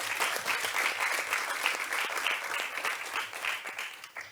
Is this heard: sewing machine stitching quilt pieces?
no